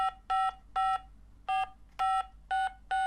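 An electronic toy telephone from a secret admirer board game plays seven short, evenly spaced dialing beeps, loud and clean against a quiet background.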